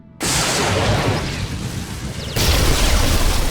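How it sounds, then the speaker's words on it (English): A console exploding in Star Wars: The Old Republic, a sudden loud blast that rumbles on with debris noise, followed by a second heavy burst partway through, with no voices over it. "The console just exploded."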